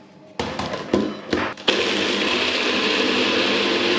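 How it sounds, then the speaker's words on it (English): A heavily overloaded blender crammed with smoothie ingredients, including coffee, banana, salted caramel and peanut butter, stutters through a few short bursts, then roars into a loud, continuous whir close by. "And now I'm going to blend."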